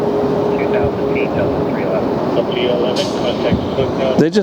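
Airbus A321neo jet airliner rotating and climbing out at LAX, a steady, distant engine rumble under close talk, with a brief crackle of a radio transmission near the end.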